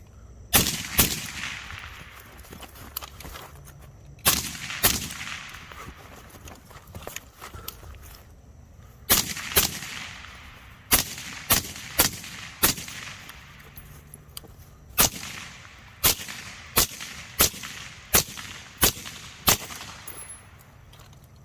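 A series of sharp, suppressed rifle shots comparing a YHM Turbo T2 and a Surefire RC2 silencer, in spaced strings of quick cracks with brief gaps, each one loud and abrupt against a quiet outdoor background.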